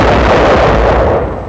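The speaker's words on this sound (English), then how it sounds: "The first explosion is caused by the white phosphorus grenades, followed by the powerful TNT charge." White phosphorus grenades and a powerful TNT charge explode inside a fort, a loud sustained blast roar filling the whole stretch before tapering slightly at the end, with no talking.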